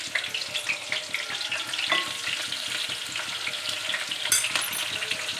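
A cut onion fries in oil in a pan, with a steady close crackling sizzle throughout and occasional light scrapes from stirring.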